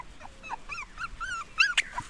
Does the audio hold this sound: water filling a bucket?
no